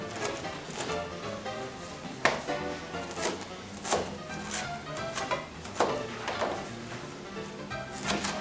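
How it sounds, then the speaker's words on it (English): Knife chopping fresh cilantro into small pieces on a board while shrimp tacos are being made. The taps are crisp and uneven, some strokes landing harder than others, with no talk. "we're going to cut them up into little bitty small pieces"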